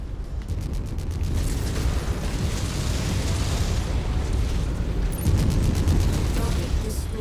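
A mech blowing up in the video game MechWarrior 5, a sustained rumbling explosion with crackling bursts over continuous loud battle noise.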